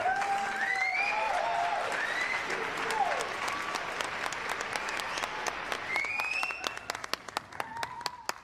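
A crowd applauding loudly and continuously, with whistles and cheers at first and sharp individual claps standing out toward the end.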